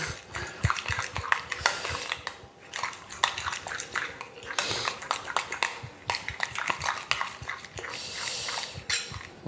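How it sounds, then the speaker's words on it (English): A spoon stirs flavouring through yogurt in a bowl, producing a steady run of close, irregular clinks and soft scrapes with no pauses. "I just mix that in the yogurt."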